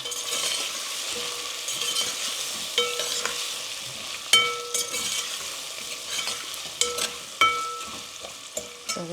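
Asafoetida cooks in hot oil at the side of a pan, a soft, continuous sizzle punctuated by repeated metallic clinks and scrapes of a spoon against the pan.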